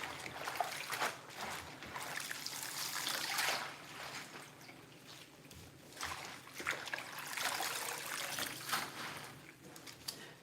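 Tap water runs into a kitchen sink while leafy greens are rinsed and lifted out, a steady close trickling and splashing with surges of louder pouring, no talk over it.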